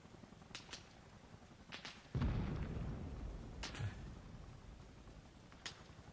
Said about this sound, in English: The shots literally sound like they're all around me.